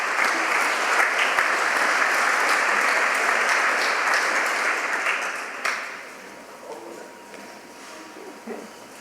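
Audience applause at a scholars' breakfast, a full round of many hands clapping steadily that thins out and fades toward the end.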